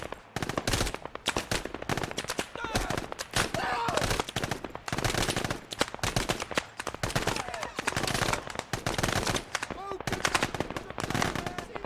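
AI soldiers in the Arma 3 video game fire rapid bursts of gunfire, dense overlapping shots crackling continuously throughout, with faint voices in the background.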